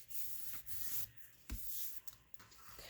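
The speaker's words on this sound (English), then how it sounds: "I'm just going to rub that into the glue real good" Paper being rubbed firmly into glue by hand, a series of close, dry scratchy strokes in irregular bursts, quiet and without talking.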